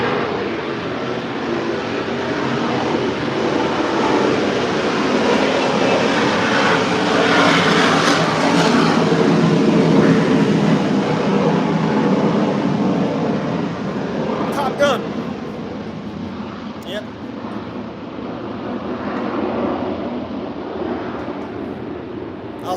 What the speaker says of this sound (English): Here's another fighter jet going over.